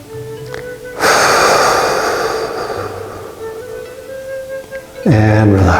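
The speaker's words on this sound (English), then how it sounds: "So breathe in gentleness into the kidney." A deep, close inhale during a qigong session: a loud, breathy rush lasting about two seconds, with soft sustained tones playing underneath and another swell of sound near the end.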